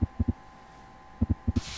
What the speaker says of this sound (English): Listen to the demon heart beating down there.